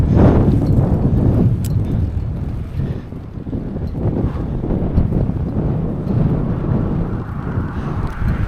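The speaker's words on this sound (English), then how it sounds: "Getting a bit breezy now, a fair bit breezy." Strong wind buffets an outdoor microphone near water, with gusty, rumbling low roar rising and falling in loud, continuous waves and no clear voices.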